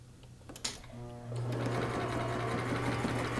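A sewing machine stitching a band on a turban starts with a click and a brief whir, then settles into a loud, steady mechanical hum of rapid stitching close by.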